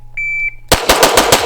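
A Jacob Grey TWC9 gun fires after a sustained electronic beep: about six loud, close shots in a rapid, even string.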